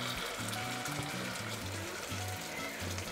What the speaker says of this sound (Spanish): Le vamos a agregar un poco de agua aquí al vaso de la licuadora para que se limpie muy bien